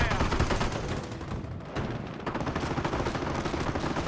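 Dense, continuous gunfire from a World War II battle in the strategy game Company of Heroes, with a machine-gun emplacement firing against Grenadiers. Rapid overlapping bursts and booms run loud throughout, with no gap.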